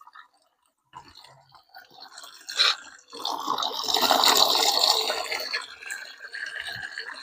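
Water runs from a tap used to mix pesticide on a mulberry farm. A few faint drips come first, then a steady rushing flow that swells and carries on to the end.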